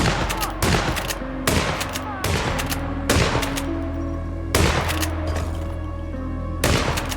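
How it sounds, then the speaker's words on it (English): Repeated loud shotgun blasts go off in the Hitman video game, roughly once every second or so, each a sharp boom that rings out over a steady rumbling background. "After confronting two gentlemen, I shotgun blasted them just like in the movie."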